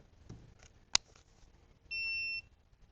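Electronic shot timer at a shooting range emits one steady, fairly loud tone of about half a second, after a sharp click and quiet background handling.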